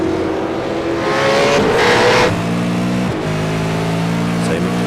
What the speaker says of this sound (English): tonight he's doing a great job in the V8 Supercar, 650 horsepower, putting it to the ground